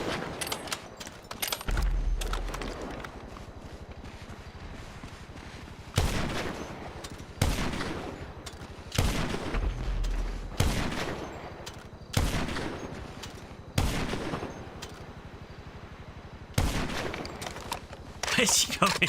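Repeated bursts of heavy gunfire from GTA Online, loud volleys separated by brief pauses, some rapid automatic strings and booming shots, with a voice speaking occasionally underneath.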